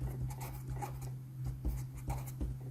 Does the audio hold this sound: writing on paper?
yes